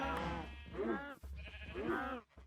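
Two wavering sheep bleats from the video game Minecraft sound close and clear, one after the other with a short gap between them.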